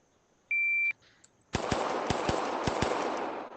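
Gunfire in the ACE VR virtual shooting course: after a short electronic start beep, about six sharp, loud shots ring out in an uneven sequence over a steady hiss.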